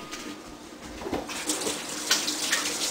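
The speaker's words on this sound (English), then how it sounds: "Like a hand washing in between meat." Tap water runs steadily into a sink as hands are washed between handling raw meat, with splashing and brief surges as the hands move under the stream.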